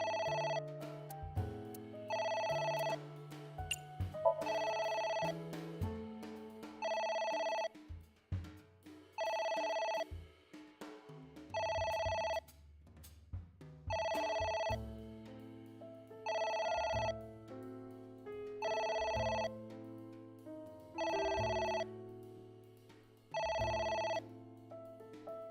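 Telephone in the video game A.I. The Somnium Files rings repeatedly in loud, evenly spaced electronic bursts over a looping musical background, with no voices.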